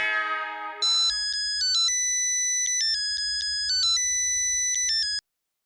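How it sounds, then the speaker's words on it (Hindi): Electronic mobile phone ringtone in a TV sitcom scene playing a bright repeating beeping melody in short stepped tones, clear and alone after a brief burst of other sound at the start. "रोशन सिंह सोडी फोन घुमाओ।"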